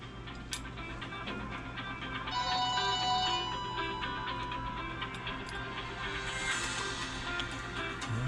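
A cell phone rings across a workshop where an early-style Bijur lubrication pump is being assembled, its repeating electronic ring tone pulsing steadily over a low mains hum and faint ticking, with no one talking.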